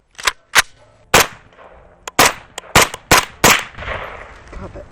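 Loud, sharp rifle shots fired from a weapon with a 29-round magazine, about eight reports in uneven succession, some in quick pairs, each with a short echoing tail outdoors.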